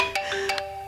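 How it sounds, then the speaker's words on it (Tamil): A phone ringtone plays on a steady electronic melody of sustained tones, faint and close in a quiet room, with no one speaking. "அனிதா போன் அடிக்கிறா"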